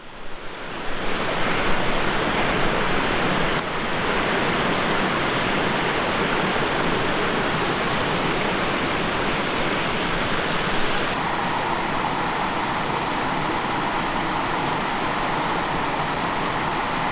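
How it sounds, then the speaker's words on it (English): Spring water of Hole in the Wall Springs, also called Big Springs, pours off a cliff along Jasper's south boundary trail, a steady, dense rushing roar that stays loud and close throughout with no voices. "this is Hole in the Wall Springs, also known as Big Springs, coming right off that cliff"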